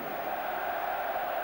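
A crowd of around 20,000 at a football cup final between Torquay United and Bolton Wanderers, a steady distant roar of cheering filling the stadium, even in level and without a clear voice on top.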